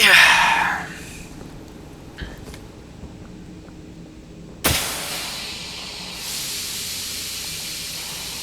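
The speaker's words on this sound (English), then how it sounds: "Gotta love the steam pipe jump scares." Steam pipe in Poppy Playtime Chapter 4 lets out a loud hiss at the start, then a second sudden burst of hissing steam that lingers as a steady rush to the end.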